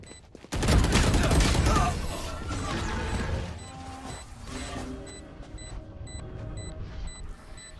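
Gunfire in a shooting video game, opening with a sudden loud blast and a dense burst of shots and crashes, then fading into scattered rattling bursts and repeated faint electronic beeps.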